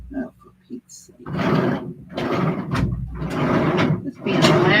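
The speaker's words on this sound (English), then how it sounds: "This being the last flipping drawer." Drawers sliding open and closed in repeated loud scraping pulls and pushes, close up, with someone talking over them.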